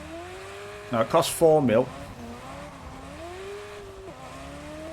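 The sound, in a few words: Porsche Taycan car driving in video game Test Drive Unlimited Solar Crown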